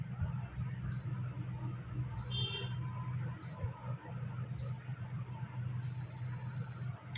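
Short electronic beeps from a Daikin split AC circuit board, then one long sustained beep marking the C9 error code, all over a steady low hum with some clicking and rustling close by.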